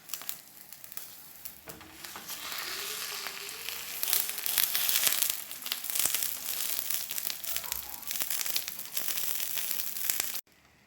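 Tilapia wrapped in leaves being flipped and fried in a pan, giving a loud, steady sizzle with crackling and crinkling of the leaves throughout, stopping abruptly at the end.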